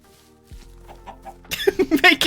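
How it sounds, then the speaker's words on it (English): Minecraft chicken clucking in a short burst of loud, close, rapid clucks after a quieter stretch with faint background game sounds. "Chicken."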